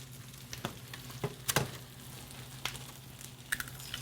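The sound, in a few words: eggs frying in garlic butter in a pan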